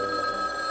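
A telephone in the Garfield's Babes and Bullets video game rings with a steady, bright electronic bell tone, a single short burst heard alone and fairly loud.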